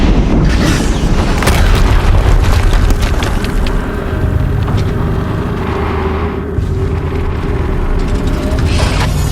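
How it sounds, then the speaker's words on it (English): In the video game Horizon Zero Dawn, loud booming explosions rumble continuously with heavy low-end bursts and crackling debris, sustained and close throughout the stretch. "Another explosion."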